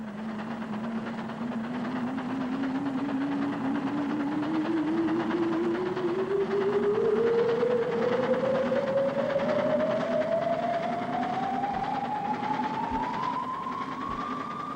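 A small train runs on rails with a steady rumble and a rising whistle-like engine tone that climbs in pitch over about fifteen seconds, continuous and fairly loud with a few faint clicks near the end.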